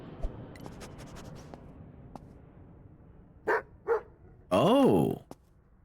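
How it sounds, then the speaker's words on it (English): A sniffer dog in Airport Baggage Simulator barks a few times: two short sharp barks followed by a longer, deeper, drawn-out bark. Faint clicking precedes them, and someone talks briefly. "So the manly bark is when he finds something"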